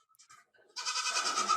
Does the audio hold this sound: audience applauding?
no